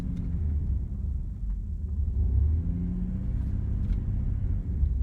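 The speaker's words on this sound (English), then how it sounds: "I'm stepping on the gas to go backwards faster, but it won't let me" The engine of a 1994 Dodge Dakota with a transmission fault drones in a steady, low rumble while the truck creeps in reverse, with no clear rise in pitch and no one talking.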